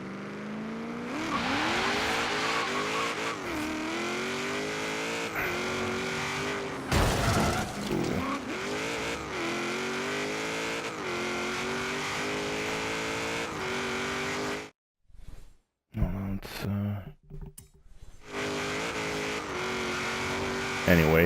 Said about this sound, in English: If you take off from a dead stop, there is a little bit of turbo lag before the whole vehicle comes alive.